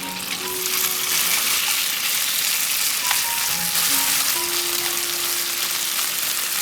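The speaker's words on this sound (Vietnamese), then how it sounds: "Áp chảo cho tới khi phần tỏi xém vàng thì thịt cũng đã bắt đầu rám mặt rồi" Beef with garlic stir-fried in a pan over high heat gives a loud, continuous sizzle with faint stirring and scraping, close up and without voices.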